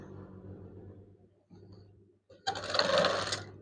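A sewing machine hums quietly as it stitches a folded curtain hem, pauses briefly, then runs again in a louder, faster burst near the end.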